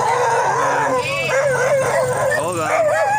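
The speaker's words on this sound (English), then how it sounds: "That's a lot of dogs." A pack of many dogs on a street in Cebu, Philippines, barking and howling together in wavering, overlapping wails, loud and close, with a voice exclaiming over the chorus.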